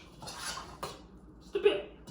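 Blueberries being stirred and mashed in syrup in a pot, giving soft scraping and clinking of a utensil against the pot, with a sharper knock near the end.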